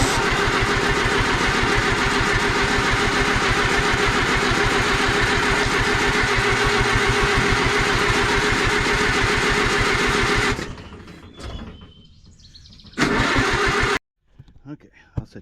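An Oliver 550 tractor engine cranks steadily and loudly for about ten seconds with a fast rhythmic churn, then cuts out, followed by brief quieter rattles and a short final burst.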